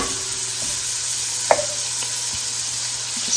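Garlic frying in a pot for potato soup, a steady loud sizzle at close range with a few soft clinks and stirring scrapes from a utensil.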